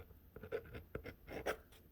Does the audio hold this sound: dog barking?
no